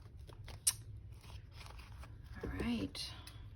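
Paper for a handmade junk journal being trimmed with scissors, a few close, soft snips and crisp cuts, with a brief sharp click early on and quiet talk from a person working alongside.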